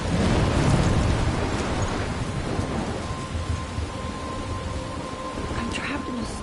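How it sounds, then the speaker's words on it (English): A video game thunderstorm in Life is Strange fills the scene with steady heavy rain and low rolling thunder, a dense wash of downpour that stays loud throughout with no voices. "I'm trapped in a storm?"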